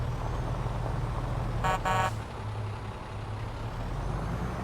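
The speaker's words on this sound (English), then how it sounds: "Lots of traffic." A truck's air brake hisses once in a short sharp burst amid steady traffic rumble in the video game Farming Simulator 25, set on a Kentucky road map, with engines droning low throughout.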